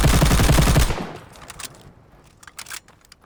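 Rapid automatic gunfire from the most accurate gun in Call of Duty Vanguard, a dense loud burst of shots lasting about a second, then scattered fainter pops and impacts.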